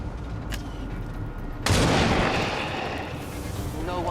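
Gunfire from the turn-based strategy game XCOM 2: War of the Chosen, a sharp shot at about half a second, then a loud, heavy blast with a long rumbling tail that fades under steady background noise.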